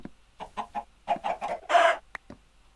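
A Minecraft chicken gives a run of short, evenly paced clucks, then a louder drawn-out squawk and a couple of final clucks, close and clear with no speech.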